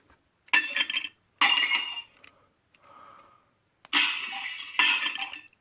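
Glass font piece of a Starkiller-inspired lightsaber being removed and handled, several bright clinking, rattling bursts of glass against metal with brief quiet gaps between them.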